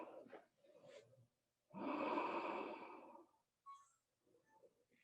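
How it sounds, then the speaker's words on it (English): One long, deep exhale during a yoga pose, close and breathy, set between soft spoken phrases. "Take a breath here."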